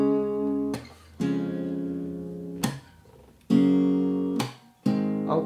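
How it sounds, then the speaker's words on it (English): Guitar with its open strings tuned down a half step to E flat, strummed in several separate ringing strums that sustain and decay between strikes, played alone and close. "If you hit the flat button on your tuner and then just tune it like you usually do, it should make your guitar sound like this."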